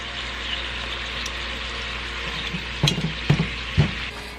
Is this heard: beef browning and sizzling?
yes